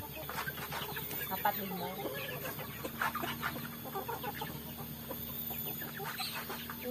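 Village chickens and roosters in a misty rural morning yard cluck and call repeatedly at close range, with someone speaking briefly in between.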